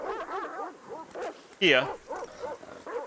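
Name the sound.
dogs barking, ambient sound on a tabletop game map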